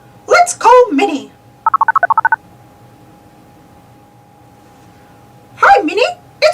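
A cell phone dials out with a quick run of about eight touch-tone beeps in a steady rhythm, clear and close, set between stretches of cartoon-style talking with a faint steady hum underneath.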